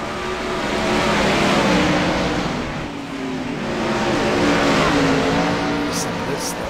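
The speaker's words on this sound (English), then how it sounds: "we're here with the 410 sprint cars now" 410 sprint cars roar around a dirt track, engines rising and falling as they sweep past in loud continuous waves, with a voice talking over the racing.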